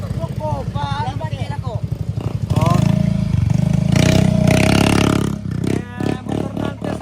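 Motorcycle engine parked outside at a funeral gathering in Tondon, started and revved under loud nearby talk, rising into a sustained buzzing roar before sputtering into uneven bursts as it dies down.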